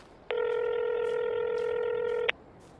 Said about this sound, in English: Let me just ring him back.